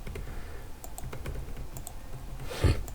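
Typing on a computer keyboard: a quiet, irregular run of light key clicks over a low background hum, with a slightly louder clack near the end and no voices.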